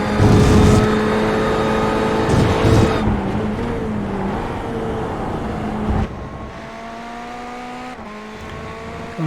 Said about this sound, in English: And we ride on board once again as we go up through the gearbox